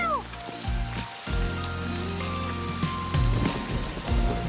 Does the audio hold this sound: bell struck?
no